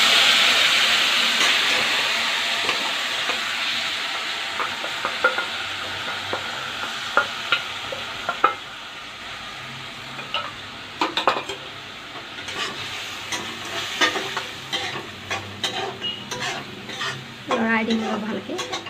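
Food sizzling steadily in a frying pan with turmeric just added, while a utensil scrapes and stirs in repeated irregular strokes close by; no one speaks.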